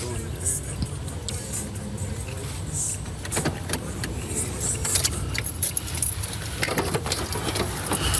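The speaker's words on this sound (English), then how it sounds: "They're pulling up in the parking lot there at the Hazel Green studio." A car pulls into a parking lot outside a recording studio, its engine a low rumble near at hand, with jangling keys and people talking over it.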